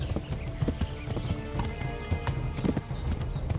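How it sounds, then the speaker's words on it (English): Horse hooves clip-clop in an irregular walking rhythm in the medieval video game Kingdom Come: Deliverance, close and clear with occasional snorts and creaks of gear. "There are numerous horses with varied stats in the game."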